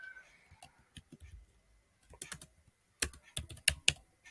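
Someone types a short message on a computer keyboard, sparse key clicks at first, then quicker bursts of sharp taps, close and fairly quiet with no voices.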